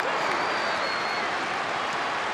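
A football crowd at a 2021/22 Women's Super League match between Arsenal and Tottenham gives a steady, broad roar that swells and holds throughout, loud and continuous.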